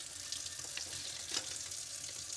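A kitchen faucet runs into a corner sink with a faint, steady stream of splashing and occasional slightly louder splashes.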